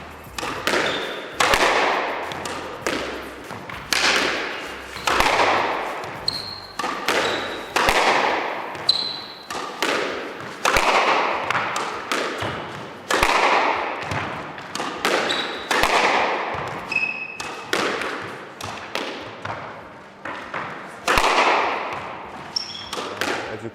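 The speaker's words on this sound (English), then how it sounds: "So we're going to get Marwan hitting through some shots and giving a little bit more feedback on what he's getting from his X-Speed 130." A Tecnifibre Carboflex 130 X-Speed squash racket strikes the ball in a steady rally on a court. Sharp, loud hits ring out roughly every second, each followed by a wall rebound, with squeaking shoes in between.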